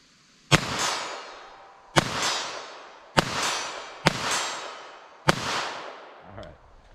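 Five sharp Winchester Super-X .22 Long Rifle gunshots crack out at roughly one-second intervals outdoors, each followed by a short echoing tail, loud and close with no talking.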